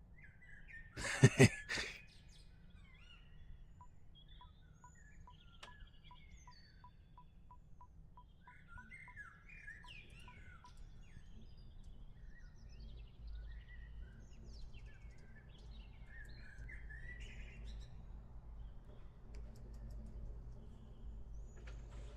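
Bird chirps from the Deltarune video game, small twittering calls scattered across the clip after a sharp burst near the start, with a soft ticking pattern and a low ambient hum beneath.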